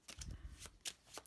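Playing cards for the deck-building game Heroes of Tenefyr are shuffled back into a deck in a few quick, quiet riffling bursts, close up and brief.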